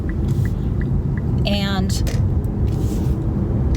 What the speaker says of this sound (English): this is a really bumpy stretch of road, so I'm not going to talk for a minute